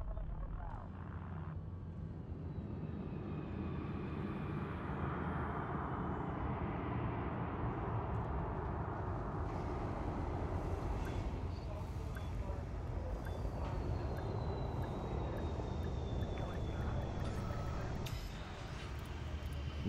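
A spaceship touching down at a surface facility in the game Elite: Dangerous, with landing gear deployed: a dense, continuous engine roar and rumble with whooshing thrust shifts, loud throughout.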